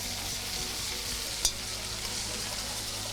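Onions sizzle and fry in a hot pan with vinegar and demerara sugar cooking off, a steady bright hiss with one sharp clack of stirring partway through; no voices.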